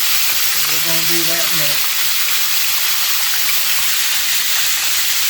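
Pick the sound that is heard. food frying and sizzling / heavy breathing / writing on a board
food frying and sizzling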